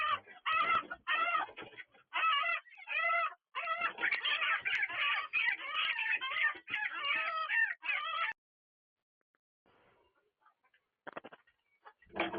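Chickens inside a coop under attack by a snake cluck and squawk loudly in rapid agitated bursts, then fall quiet apart from a few faint calls near the end.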